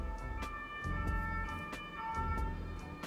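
A police or fire engine siren wails outside, faint and distant, with low traffic rumble beneath and a few soft knocks indoors.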